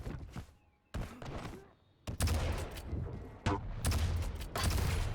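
Rocket launcher shots and other weapon fire in a Quake Pro League match, sharp bursts with abrupt loud onsets and dense rumbling blasts, most prominent in the second half, with a commentator talking underneath.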